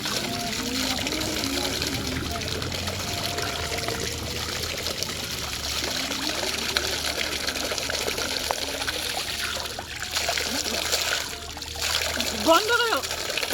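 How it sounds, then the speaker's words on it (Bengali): Water trickles and splashes as it is collected into a bag at a family home, a steady wet pour running under nearby voices and background household noise. "আমাদের জল নেওয়া হয়ে গেল"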